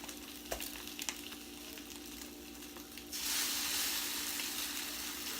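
French toast and turkey apple sausage patties sizzle steadily in a pan, a low crackle at first that swells into a louder, denser hiss partway through and holds there, with no one talking.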